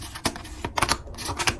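A $12 budget tarot deck is shuffled by hand, giving quick papery riffles and card slaps in several bursts, close and fairly loud, with no talking.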